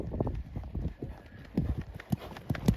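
A pony's hooves clip-clop in an irregular rhythm, close and fairly loud, as it warms up in an indoor arena before show jumping, with faint talk in the background.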